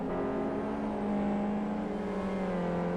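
Race car engines in the Live for Speed sim hum steadily as the field weaves behind the safety car to warm tyres before a rolling start, a continuous close droning whir with slight pitch shifts.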